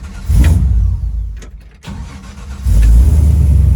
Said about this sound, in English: if I start the truck